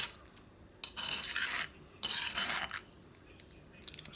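Brisket taco filling stirred and mixed in a pan, two scraping, rasping strokes of about a second each with a quieter third pass, close and alone.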